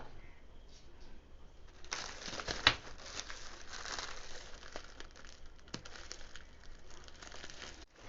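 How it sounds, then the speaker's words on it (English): Plastic package cover around a white Butterflies women's sling bag from Flipkart is opened and handled, giving a close, steady crinkling rustle that swells into a louder crackling stretch and continues throughout. "So now let me open the cover and see what I have received."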